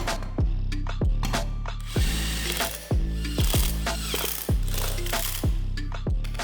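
Lug bolts are driven onto the wheel hub of a 4x4 Power Wheels truck with a ratchet, rapid clicking bursts repeated about nine times in a regular rhythm, close and loud with no talking.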